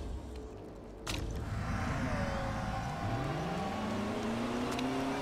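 Race cars in the Motorsport Manager game roll out onto the track, engines building from a low idle into a steady rising whir with pitch sweeping upward, sustained and fairly close with no talk.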